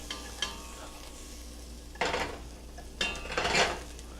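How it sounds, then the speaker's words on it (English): Onions caramelize in a pan on the stove and are stirred with a utensil, a low steady sizzle broken by three short bursts of scraping and clinking against the pan. "now the release of this onion that's caramelizing"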